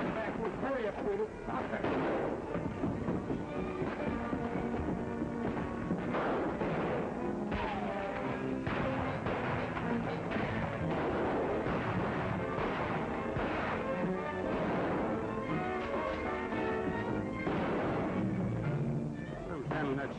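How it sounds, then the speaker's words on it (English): Repeated shotgun blasts crack through a dense, loud, continuous din in a chaotic shootout, with voices mixed in. "Who's handling that shotgun and shooting wild?"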